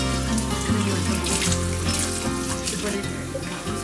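Running tap water rinsing kombu seaweed in a sink, a steady close stream splashing and shifting as the seaweed is moved under it.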